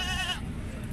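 A large goat gives a single short, wavering bleat, close and loud, over a rough background of ambient noise.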